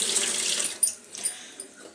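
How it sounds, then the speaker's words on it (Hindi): Running tap water splashing while two frying pans are rinsed in a kitchen sink, a hissy, close stream with a few sharper splashes and clinks as the pans are moved under it. "तो 2 फ्राइदान ले लिए हैं, इनको करते हैं वॉश एक साथ"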